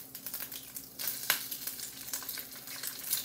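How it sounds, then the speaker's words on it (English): Boudin sausage warms in olive oil in a skillet, giving a light, irregular crackling sizzle with quick ticking pops, close and steady, and one brief louder spit. "I put a little olive oil in my skillet here. And I'm just warming up this boudin."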